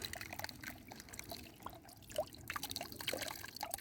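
Water trickles and drips off a gold pan as liquid is poured away outdoors after a mini sluice run, a faint, continuous watery dribble with a few small splashes, no voices.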